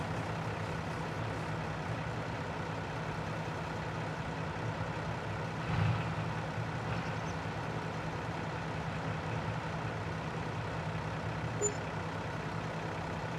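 Truck trailer offloading pallets in Farming Simulator 22, a steady low engine drone running throughout with a brief louder bump midway and a faint hiss near the end.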